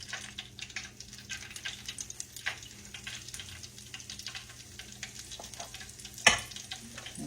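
Small dollops of hush puppy batter fry in hot oil, giving a quiet, steady sizzle with faint crackles and pops and one sharper click near the end, and no one speaks.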